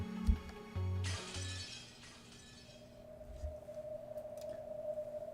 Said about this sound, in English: There was the sound of glass shattering, followed by an angry, bellowing roar